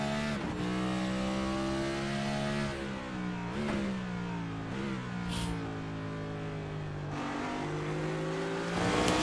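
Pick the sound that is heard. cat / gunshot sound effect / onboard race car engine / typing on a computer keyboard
onboard race car engine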